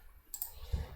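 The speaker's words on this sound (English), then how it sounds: "I am clicking on the different wheels to rotate it" Mouse clicks on a computer, a couple of faint, sharp clicks close by in an otherwise quiet room, no talking.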